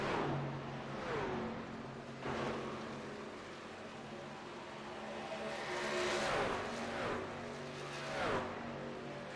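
Race trucks passing on a circuit at an Asylum Racing Series event in Las Vegas, engines whining and rising and falling in pitch as several trucks sweep by in succession, loud and steady throughout.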